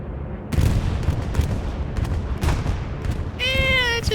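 Gunfire and explosions during a bombing run in a Broken Arrow multiplayer battle, with dense rumbling bursts and cracks from start to finish, ending in a high whining sweep.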